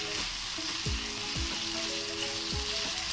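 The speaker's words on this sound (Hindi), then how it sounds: "चलें, हमारा मसाला अच्छे से फ्राई हो गया चिकन के साथ।" Masala fries with chicken in a hot pan for egg roll filling, giving a steady loud sizzle broken by several knocks of a spatula against the pan.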